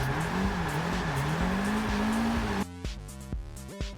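Forza Motorsport 6 car drifting with a steady, loud tire squeal and engine drone for over two seconds, then cutting to rhythmic gear-shift revs and engine bursts as the drift ends.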